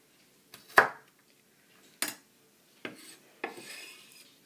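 A knife chops through a carrot on a cutting board while preparing a budgie meal, four separate crisp cuts spaced about a second apart, close and clear in a quiet room.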